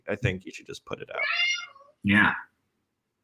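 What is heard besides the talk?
cat meowing in the background (Leon)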